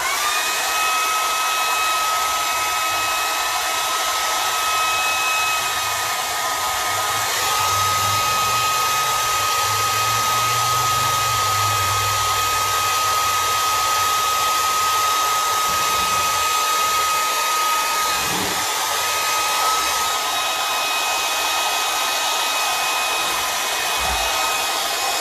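A hair dryer blows steadily on freshly painted pumpkins, a constant close whirring with a thin high whine that runs unbroken for about twenty seconds and then drops off before starting up again.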